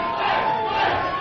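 Crowd at a live radio show chanting for a rapper, a dense, steady roar of massed voices that stays loud and continuous throughout the moment, without any break or pause.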